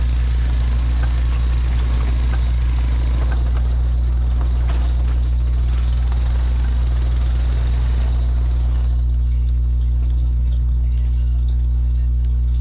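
Four-wheeler ATV engine in a Louisiana deer-hunting video game, a loud steady low drone with constant harmonics that thins out partway through, running continuously up close.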